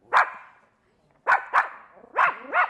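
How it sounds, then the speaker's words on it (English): A dog barks in a string of five sharp, close barks, one alone and then two quick pairs, with a short silent gap after the first. "Oh, doggy, doggy"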